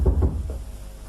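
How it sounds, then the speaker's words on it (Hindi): Knocking on a door in a Hindi radio comedy play. A few quick muffled knocks near the start, fading into quiet room tone. "अरे ये कौन खटखटा रहा है?"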